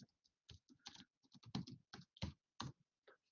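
Quick, uneven keystrokes on a computer keyboard come in short bursts and pauses, close and clear, while someone types a title during a design session.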